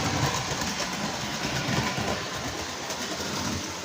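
A Texas Special 211 model train running on its track, giving a continuous, fairly loud rumbling whir with faint rhythmic clicking and no talking.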